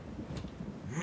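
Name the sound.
thunderstorm in video game Barbie Horse Adventures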